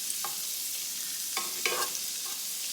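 Ingredients for fried rice stir-fry in a pan, a soft sizzle under a few short scraping stirs of a spatula, heard alone and fairly close.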